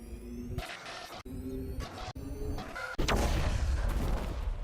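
A beacon being destroyed on Eden Prime in the Mass Effect video game: a few heavy rumbling bursts break off abruptly, then a loud, sustained explosive roar takes over.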